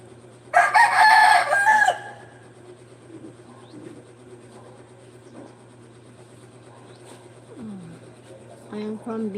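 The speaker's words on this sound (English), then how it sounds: "The chicken here is everywhere." A rooster crowing loudly and close by in a single long call, followed by quieter clucks and bird sounds in the background with faint voices nearby.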